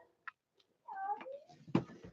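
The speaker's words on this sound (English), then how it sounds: "I don't know if you guys can hear my cat." A pet cat meows close by in a short, wavering call, with small clicks and shuffling around it.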